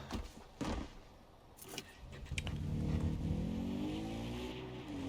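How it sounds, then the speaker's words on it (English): Quad bike engine in Far Cry 4, a few clunks and rattles as the rider gets on, then the motor starts and revs with a rising, wavering drone that holds steady. "Quad bike again. Let's get on that, shall we?"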